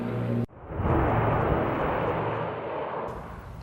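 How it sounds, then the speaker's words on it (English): An air tanker plane working over a wildfire in Idaho roars loudly overhead, a broad rushing drone that surges in suddenly, holds steady, then eases slightly as it passes. "3 air tankers have been working all day, dropping fire retardant to block the advancing flames"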